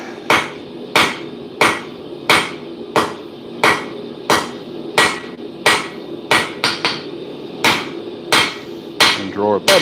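Heavy hammer blows land on hot steel being upset at a blacksmith's forge, a steady run of about fifteen loud, sharp ringing strikes at an even, quick rhythm, with no talk.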